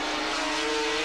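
Racing motorcycles at Calder Park give off a loud, continuous engine whine as they brake hard into a corner, in a brief close burst with no talk.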